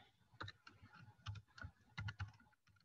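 Rapid, uneven keystrokes on a computer keyboard as a word is typed into a spreadsheet list, clicking close and clear in short bursts with brief pauses between them, no voice over it.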